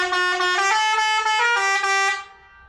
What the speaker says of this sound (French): Genre là, on a le boîtier du klaxon.